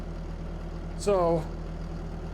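A tractor engine in Farming Simulator 22 idles with a steady low rumble throughout, and a short spoken word briefly rises over it in the middle.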